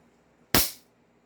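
A single sharp pistol shot from a CZ Shadow 2 or Glock handgun, loud and close, with a quick decaying tail and quiet before and after.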